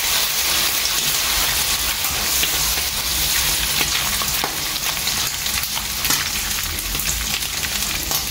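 Roughly chopped tomatoes fry with spices in a pan, giving a continuous, close sizzle and hiss with occasional faint stirring scrapes and no talking.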